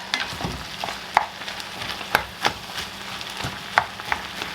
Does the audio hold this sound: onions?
yes